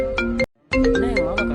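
A mobile phone ringtone for an incoming call plays loud and close, a bright repeating melodic tune that breaks off briefly and then starts again.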